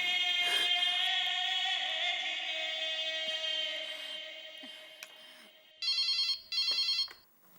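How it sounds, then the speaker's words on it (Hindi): A telephone rings in a quiet home during a family comedy scene: a sustained bright tone fades out, then two short loud bursts of electronic ringing follow, heard alone with no talk. "हाँ चलो एक बार टप्पू के पापा को फोन करके पूछती हूँ।"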